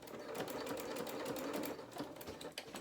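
Close and steady, a sewing machine runs continuously through curtain lining, its rapid needle clatter and motor whir holding an even rhythm throughout with no pauses.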